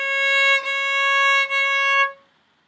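A violin plays a single sustained C sharp, stopped with the second finger on the A string. The clear bowed tone is held for about two seconds, with two brief dips from bow changes, then stops cleanly into silence.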